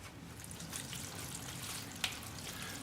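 Water poured into a seed tray for bottom watering, a soft steady trickle and splash running throughout at low volume, with one small sharp drip or knock partway through.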